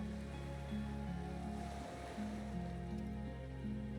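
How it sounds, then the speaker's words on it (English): Water laps around a gently rocking skiff in Disco Elysium, a soft steady wash of small waves under a low sustained musical drone, with no talking. "The skiff rocks gently under your weight"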